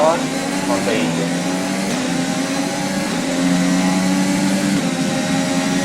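A worn Formula 1 engine losing power during a race in the F1 2020 video game, a loud sustained whining drone with a pitch drop early on, then holding steady.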